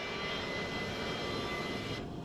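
An Airbus A340 airliner landing at Filton airfield in 1992 gives off a steady, faint jet engine roar with a broad rushing whine that cuts off abruptly near the end.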